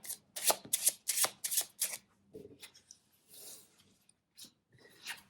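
A deck of cards is shuffled for a card reading in a quick run of crisp riffling bursts, then softer sliding and tapping as the deck settles, close and quiet with no talk.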